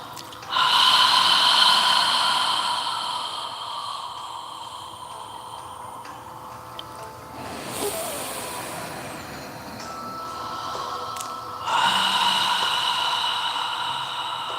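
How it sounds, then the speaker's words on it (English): Slow, deep yoga breaths, long hissing inhales and exhales close to the microphone, with one breath cycle running several seconds, quieter pauses between, and a fresh strong breath near the end. "So continue following your breathing."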